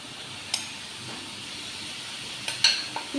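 Marinated chicken sizzling in a hot frying pan, a steady soft hiss with a few sharper crackles and spatter bursts near the end, close by with no talking.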